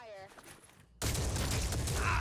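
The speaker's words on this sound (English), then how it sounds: "Opening fire." Gunfire in the tactical strategy game Phoenix Point: a sudden loud burst of shots erupts after a quieter stretch of speech and keeps going dense and close to the end.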